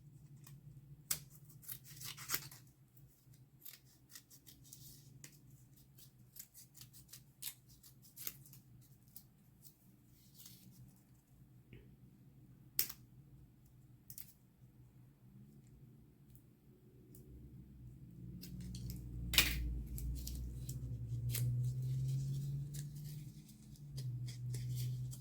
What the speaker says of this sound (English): I'm just going to cut it like kind of going around